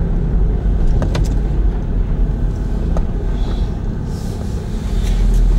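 A car rolls slowly through a car park, a steady low engine and tyre rumble close by with a few small clicks and rattles, continuous throughout.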